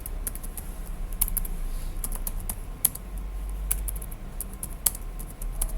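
Someone types text on a computer keyboard, entering a thank-you message as Word Art. Rapid, irregular keystrokes clatter close by over a faint steady hum, with a few sharper, louder key hits.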